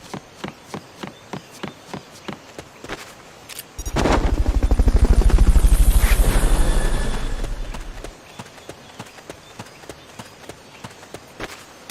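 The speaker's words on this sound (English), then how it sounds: "Fulton recovery subject confirmed onboard helicopter." A rhythmic thudding pulse swells into a loud, close whirring rotor roar for several seconds, then fades back to repeated beats, like a helicopter in Metal Gear Solid: Peace Walker during a Fulton recovery.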